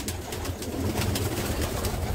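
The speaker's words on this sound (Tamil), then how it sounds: "இப்போதைக்கு இவ்வளோ புறா தான் கிடக்கு நம்மகிட்ட" Pigeons coo steadily in their slightly dirty coop, a close, low, repeated warbling that carries on without pause over soft background noise.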